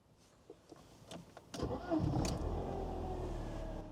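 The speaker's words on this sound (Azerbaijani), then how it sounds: "Avtomobilimizi işə salırıq." A Mercedes-Benz 190E engine cranks briefly and fires up, then settles into a steady, fairly loud idle close by, preceded by a few soft clicks of the key and car interior.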